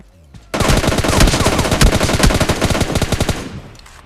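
Rapid automatic gunfire from the battle royale game PUBG Lite, a loud sustained burst of closely spaced shots lasting about three seconds after a brief quiet lead-in, then cutting off.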